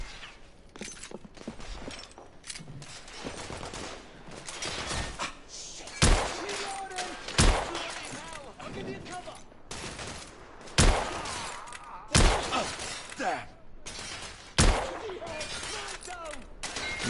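Sharp, loud gunshots ring out every couple of seconds from The Order: 1886 on PS4 Pro amid a busy game soundscape of clatter and effects, with a voice briefly heard among them.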